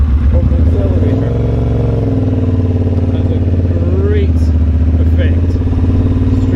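A motorcycle engine accelerating in first and second gear on a 20 mph city street, a steady loud mid-pitched drone that rises and shifts, with a rider talking over it throughout.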